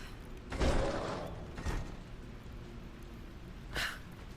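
A secret door mechanism in a Tomb Raider video game, with creaking, scraping stone-like movement in two short surges followed by a later brief hiss, moderately loud, without speech.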